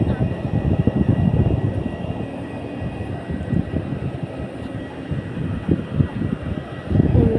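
An airplane rumbles in the distance taking off from an airport, a steady low engine roar with wind buffeting, while people talk nearby.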